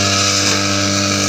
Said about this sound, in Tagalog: at start na nga ulit sa pag-grass cutter